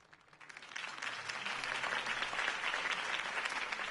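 Crowd applause in a video game follows a campaign speech, swelling quickly from a few claps into a sustained, dense roar of many hands that holds steady, distant and fairly soft.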